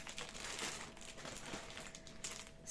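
Thin plastic packaging crinkling and rustling as it is handled and opened during an unboxing, soft and close, in irregular crackly bursts.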